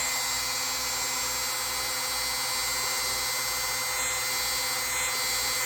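Power buffing wheel polishing a vintage Hammer Brand Barlow knife with rubbing compound, a steady high-pitched whirring hiss with a pulsing low rumble, continuous and close.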